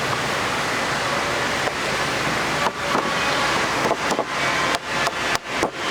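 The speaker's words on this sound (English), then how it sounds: "Rubber mallet." A rubber mallet taps a glass pane into a wooden door frame with a handful of soft, irregular knocks in the second half, set against loud, steady background hiss.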